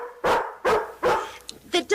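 A dog in an old-time radio comedy barks three times in quick succession, loud and close, then gives a couple of shorter yips at the end.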